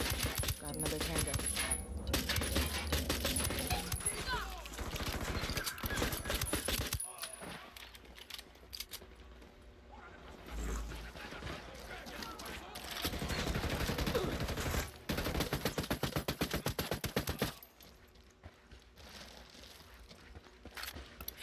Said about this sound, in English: I'm shooting these fuckers.